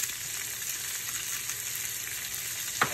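Spinach, mushrooms and cherry tomatoes fry in a pan with a soft, steady, close sizzle, and a single brief clink near the end.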